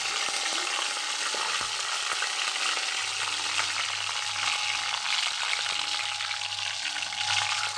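Two bay leaves and white cumin seeds fry in a little more than two spoonfuls of hot oil, giving a continuous, even sizzle with small crackles and a faint low hum underneath.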